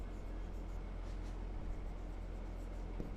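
Pen or marker writing on a board during a maths lesson, a soft steady scratching under a constant low hum, with no talk heard.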